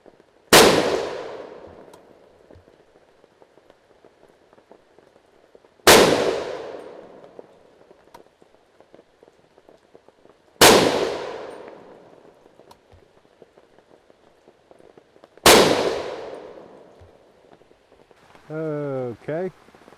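Four loud, sharp rifle reports from an SKS firing 7.62x39 handloads, spaced roughly five seconds apart, each ringing out with a long outdoor decay, followed by a brief metallic tinkle after the last shot.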